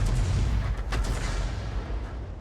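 A Hummel self-propelled artillery gun fires in World of Tanks, one heavy close boom with a rolling low rumble that fades out over the following two seconds.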